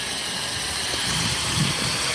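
Steam line hissing into a truck trailer to warm it, a steady loud broadband hiss that runs continuously without a break, with a low rumble underneath.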